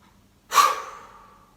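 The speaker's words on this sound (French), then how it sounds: "soufflez fortement en éliminant définitivement ces tensions" A single forceful exhale through the mouth during a relaxation exercise, a sudden breathy gust that fades away gradually after a moment of silence.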